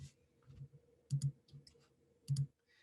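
Soft clicks and taps on a computer keyboard and mouse, a few scattered presses and two quick double clicks, quiet and close with no talk.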